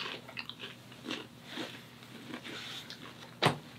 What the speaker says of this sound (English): the popcorn has a good crunch